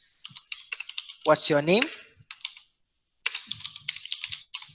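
Bursts of rapid clicking on a computer keyboard, close and crisp, come in two spells of typing with a short spoken question in between.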